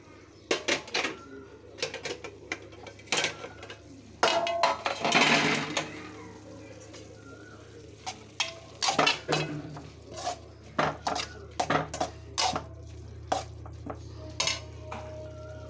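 A spoon stirs curry in a metal pot, giving irregular close clinks and scrapes against the sides, with one longer scraping stir partway through and quiet moments between.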